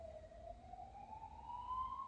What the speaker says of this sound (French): Bienvenue dans une ville où il y a tout le temps des sirènes